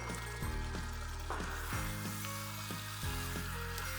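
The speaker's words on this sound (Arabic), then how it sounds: "هبتدي انزل بالباستا" Cooked pasta drops into a hot pan of mustard sauce and sizzles loudly and steadily, with a few soft stirring clunks close by.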